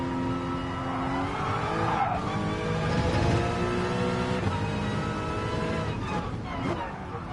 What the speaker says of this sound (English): I don't tend to talk and drive a race car.